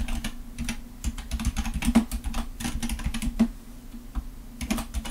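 Keys clacking on a computer keyboard in bursts of quick, close, clear strokes, with a low steady hum running underneath and no speech.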